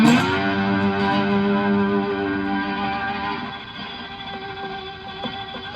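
A twangy slide on a three-string cigar box guitar sustains a bright, buzzy chord, then the note slides and rings on more quietly with slight fret noise toward the end.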